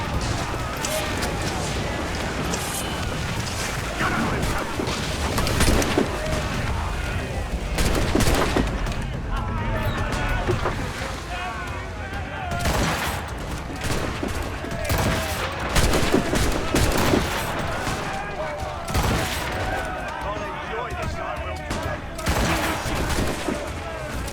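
Cannons and guns roar through a naval battle in Assassin's Creed Rogue, a dense barrage of booming volleys and crackling shots with no letup, while voices shout orders over the din.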